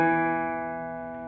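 A guitar's low E string rings alone after being tuned, one sustained plucked note with rich harmonics, close and slowly decaying.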